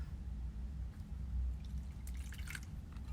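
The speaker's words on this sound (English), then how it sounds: "I'm gonna add a little bit of water to help break them up" A little water trickles into a plastic zip bag of squished fruit, giving faint, soft drips and a brief wet patter that rise near the end over a quiet, low background hum.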